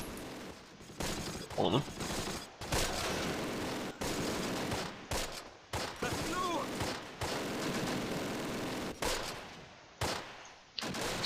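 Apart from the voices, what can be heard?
enemy machine gun fire in Close Combat: Last Stand Arnhem video game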